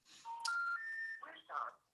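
Phone dialing tones play as a short series of steady electronic beeps stepping through different pitches, close and clear, with a faint voice alongside.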